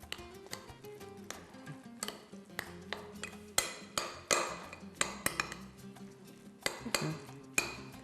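A spoon stirring a grated walnut mixture in a bowl, with repeated clinks and scrapes of metal against the dish at an irregular rhythm, close and fairly crisp, no talking.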